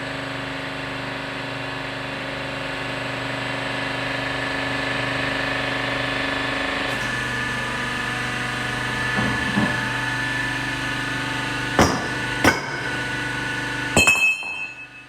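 A ProBender 35T hydraulic pipe bender retracting its ram after a 90-degree bend, a steady mechanical hum with a pitch shift midway, then a few sharp metallic clinks near the end.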